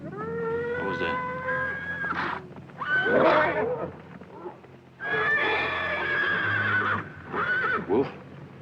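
A stallion neighs and whinnies in several loud, shrill bursts, one after another with short pauses, close by and uneasy at night, with faint hoof shuffling between calls.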